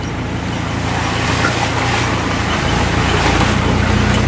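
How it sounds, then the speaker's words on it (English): Four-wheel-drive vehicle creeping along a rough, rocky road at a few miles an hour in the Philippines: loud, steady engine drone and cabin rumble with continuous road noise, no speech. "We are just doing a few miles an hour. We're in four-wheel drive."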